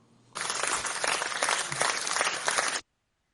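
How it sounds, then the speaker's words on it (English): Applause in a live Twitter Space audio session breaks out abruptly, a dense wash of claps held at steady loudness for a little over two seconds, then cutting off sharply to near silence. "Can we get in a round of applause for Sphinx singing to Dawn, please?"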